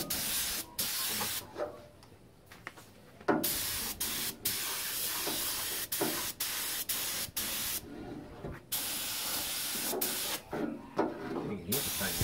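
Primer coat being spray painted onto a Mitsubishi Sigma, a series of loud close hissing bursts of varying length separated by brief pauses, with no talking over it.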